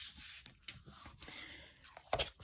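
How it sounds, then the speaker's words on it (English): Hand rubbing tape down firmly onto a card book, a soft close friction swish that comes in repeated strokes with short pauses, alone. "Just give it a good push and rub it on."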